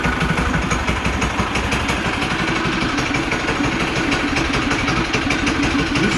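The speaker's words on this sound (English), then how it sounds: "I'll let this thing idle, shut it off, I'll turn it back on" A Coleman CT200U mini bike engine idles steadily and close by, with an even, busy mechanical putter that holds a constant rhythm throughout.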